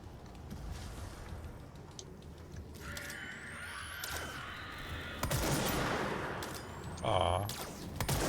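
Gunfire in the video game Control: bursts of shots and sharp mechanical impacts crack out in the middle and later part, fairly close, over a steady rumbling game backdrop.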